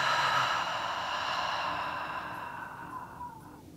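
A long, soft exhale during a guided yoga breathing practice, a breathy airy rush that fades gradually over a few seconds, close and alone with no talking.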